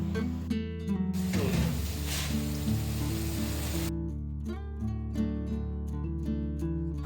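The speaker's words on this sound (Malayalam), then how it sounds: "എണ്ണ ചൂടായി വരുമ്പോൾ അതിലേക്ക് ചെമ്മീൻ ഇട്ട് കൊടുത്ത് ഹാഫ് ഫ്രൈ ചെയ്തെടുത്താൽ മതി." Prawns dropped into hot oil in a pan set off a loud sizzling burst that lasts a few seconds, then subsides beneath steady background music.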